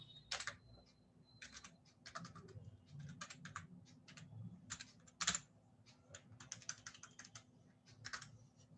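Someone types code in Python on a computer keyboard in irregular bursts of clicky keystrokes, with a few sharper taps. The sound is close but fairly quiet over a low steady hum, and no one speaks.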